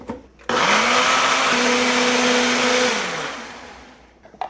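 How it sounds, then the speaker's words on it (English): A countertop blender whirs steadily at close range as it purées tahini, lemon juice and yogurt into a scallion sauce, starting abruptly, holding a constant motor tone and then spinning down. "then we're going to blend."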